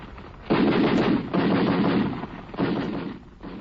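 Gatling-type machine gun firing in three sustained rattling bursts, loud and close, with brief pauses between them, heard on an old 1943 recording with no speech over it.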